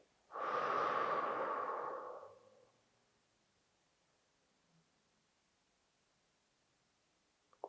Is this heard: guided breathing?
yes